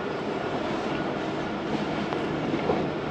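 Jaffar Express train passing through Attock Khurd railway station, a steady loud rumble and rolling roar of cars moving past close by, with no voices over it.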